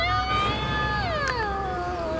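An angry cat in an animated film lets out a long, wavering yowl with rising and falling pitch. The cry is loud and close over a low background bed.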